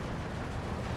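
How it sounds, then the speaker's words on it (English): A dense, roaring blast from bombs dropped by ME-210 aircraft in Steel Division 2 fills the moment, a loud, broad rumble of explosions with no gaps. "My ME-210 did just come in and drop some bombs here"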